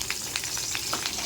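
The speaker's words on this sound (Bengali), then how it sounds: "সবার প্রথমে আমি গরম তেলের মধ্যে কারি পাতা দিয়ে দিচ্ছি।" Curry leaves sizzle and spatter in hot oil in a pan: a loud, steady hiss broken by sharp little pops and crackles.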